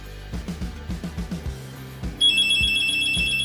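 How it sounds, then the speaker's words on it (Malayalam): After dialing the allotted landline number, a rhythmic series of low tones pulses for about two seconds, then a steady electronic ringback tone starts and holds, close and clear. "യെസ്, റിങ് ചെയ്ത് തുടങ്ങി."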